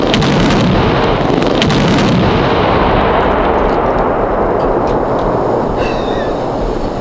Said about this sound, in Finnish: räjäyttää rypälepommit